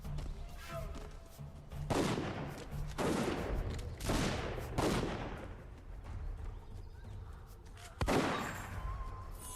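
Gunfire from a weapon in an Xbox 360 video game, a series of loud, sharp blasts with long ringing decays, roughly five shots spaced about a second or two apart.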